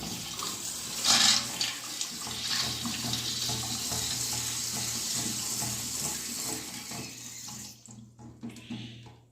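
Water gushes steadily from an open supply pipe during a wall-hung toilet installation, with a loud splashing burst early on and the flow fading as the tap is shut off.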